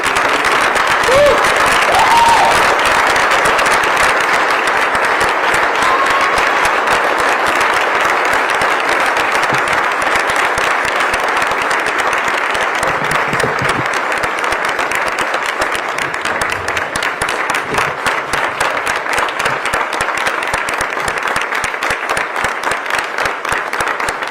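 An audience applauds as Richard Pitino is welcomed as Xavier's new men's basketball head coach: dense, sustained clapping from a large crowd holds steady from start to finish.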